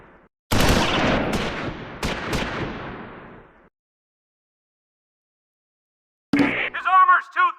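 Infantry gunfire in the Close Combat 4 Battle of the Bulge game, at Baraque de Fraiture, 1944: a loud burst of shots and sustained rattling fire for about three seconds, then silence, followed by a short spoken voice line.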